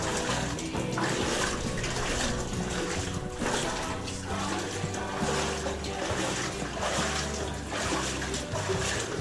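Running water gurgles and splashes steadily, a dense close flow with no pause, while a voice or two can be faintly caught beneath.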